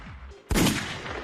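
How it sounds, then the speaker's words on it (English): A sudden loud gunshot burst from an in-game sound effect erupts after a brief lull, with a rumbling, noisy tail and rapid repeated crackle like gunfire continuing to the end. "I mean, there you go. Gunshots."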